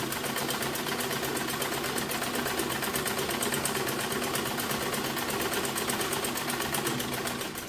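A sewing machine runs steadily while back stitching a panel skirt, its rapid needle chatter continuous and loud at close range, with no pauses or talk.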